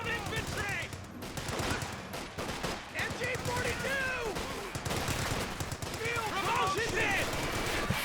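Machine gun fire rattles in Company of Heroes 2 amid a busy 2v2 battle, with rapid bursts and scattered shots. Over them a commentator speaks steadily and other voices are heard.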